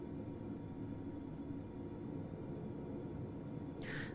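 Cabri G2 helicopter engine in Microsoft Flight Simulator as the throttle opens to about 15%, a steady low rumbling drone with a faint whine, holding even throughout with a brief brighter hiss at the end.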